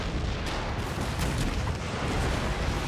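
Cannon fire in a video-game naval battle set during the American Revolution: a dense, continuous rumble of overlapping booms and blasts at moderate volume, with no talking.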